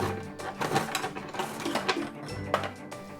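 A My Little Pony toy cash register's conveyor belt knob is turned by hand, giving a faint rapid plastic clicking and rattling with uneven bursts for about three seconds.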